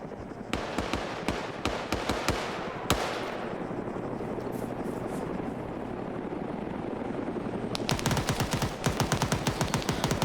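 Arma 3 battle: rapid bursts of automatic gunfire crack out in clusters under a steady helicopter rotor drone, with a quieter stretch mid-way before heavy firing resumes.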